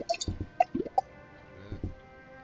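A drink being poured, heard as a few quiet glugs and wet drips clustered together, then a short pause and a couple more soft splashes.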